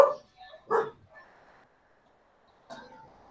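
A dog gives a few short barks, two in quick succession and then one more after a pause, close by against an otherwise quiet background.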